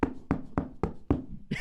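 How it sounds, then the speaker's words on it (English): Knocking on a wooden floorboard: five sharp, evenly spaced hollow raps, close and loud, followed by a brief softer sound at the end. "I knocked on the floorboard instead of the hard"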